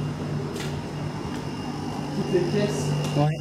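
Dehumidifier machines drone steadily in an abandoned château, a constant mechanical hum with tonal whine that runs under someone speaking French nearby.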